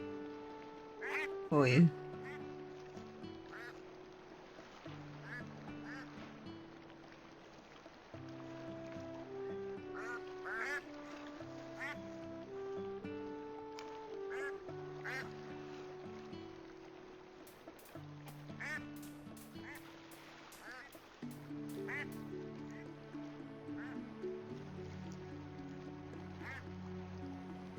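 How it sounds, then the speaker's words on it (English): Ducks quack repeatedly in the video game Teddy's Haven, loud and close over a steady game music loop, with a brief spoken phrase near the start. "These are another kind of birds that also have eggs"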